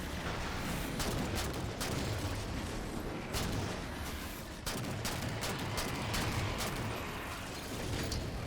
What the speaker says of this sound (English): No, that was a light rifle.